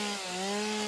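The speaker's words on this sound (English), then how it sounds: "let's get out the chainsaw and see if we can't push down" A chainsaw cuts through wood in the factory-building game Satisfactory. The engine holds a steady, continuous drone throughout, close and loud, with no voices.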